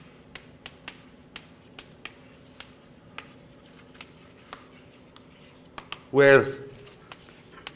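Writing vectors on a board during a lecture: light, rhythmic taps and scratches of the writing tool recur at a steady pace, quiet and close, before a brief spoken word cuts in near the end.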